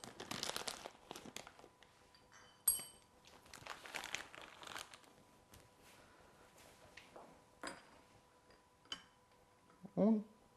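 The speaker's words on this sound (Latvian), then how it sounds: "Vienkārši pievienoju nepieciešamo daudzumu katrā pudelītē." Coopers dextrose priming sugar is measured into beer bottles for home-brew carbonation: soft crinkling and rustling with scattered light taps and clinks, plus a louder knock near the end, under quiet talking.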